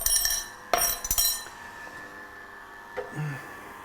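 Glass picked up and set down on a kitchen counter, giving a couple of sharp clinks and knocks near the start, then quieter handling with a faint ringing tone.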